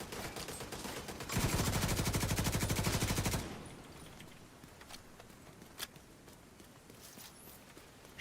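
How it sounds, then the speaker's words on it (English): A rapid, sustained burst of automatic gunfire in a video game, loud and rattling for about two seconds, then quieter scattered shots and thumps in the background. "Shooting at me."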